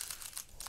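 Star Wars CCG cards riffle shuffled unsleeved, a quick dense crackling flutter of card edges riffling together, close and steady throughout with no talk.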